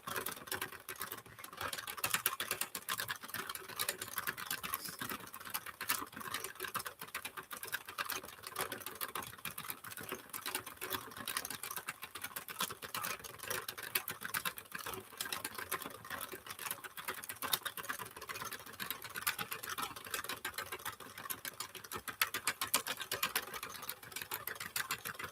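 Hand-cranked knitting machine working metallic yarn into earwarmers, a steady dense rapid clatter of needles and carriage running continuously and evenly throughout, close and moderately loud with no talking.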